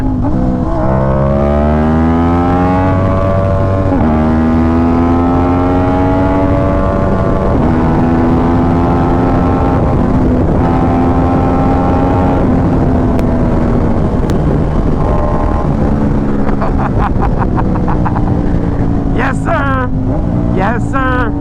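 Yamaha YZF-R1 superbike engine, loud and close, revving up through repeated rising gear pulls with brief drops between shifts, ending in a burst of high revs.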